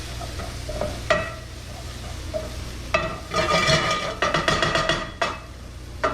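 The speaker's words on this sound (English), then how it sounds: "Stir that all around." Garlic, ginger and chili sizzle as they are stirred around a pan for vegan chana masala, with broadband frying hiss under repeated scraping strokes and clinks, busiest in the second half.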